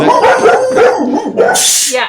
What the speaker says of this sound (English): the dogs don't like that idea